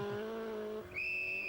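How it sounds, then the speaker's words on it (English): An Opel-engined Sunbeam rally car slides on a stage, engine droning loud and close before a sharp, rising tire squeal cuts in and holds as the car nearly leaves the road. "Stephen Harris is almost throwing his Opel engine sunbeam off the road"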